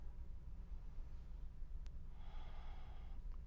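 A slow, deep breath is drawn during a yoga hip stretch, soft and close, rising after a quiet stretch of near silence.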